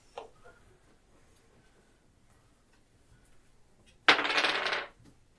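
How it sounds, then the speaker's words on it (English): Dice rolled for traps during a tabletop game session give a single sharp, rattling clatter lasting about a second after near silence, with a faint click at the very start. "So go ahead and roll for traps."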